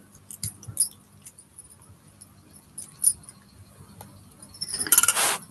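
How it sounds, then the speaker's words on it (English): Glasses chink and clink lightly as they are sorted, with scattered sharp taps in a quiet room and a denser cluster of bright clinks near the end. "I am sorting my glass."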